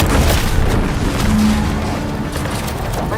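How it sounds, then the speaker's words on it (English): A loud, sustained rumbling boom from an explosion in the video game The Outer Worlds 2, with a broad roaring wash that holds steady for several seconds without any talk over it. "What's that? An explosion?"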